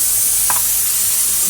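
Cumin powder, green chilli and turmeric sizzle in hot oil in a pan with lentils, making a loud, continuous frying hiss up close with a brief stirring scrape.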